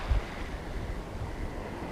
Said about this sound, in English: Now the wind's coming over my shoulders